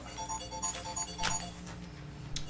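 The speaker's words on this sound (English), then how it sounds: "That's my city phone ring" A city phone ringtone plays during a city commission meeting, a faint repeating electronic tone under room noise.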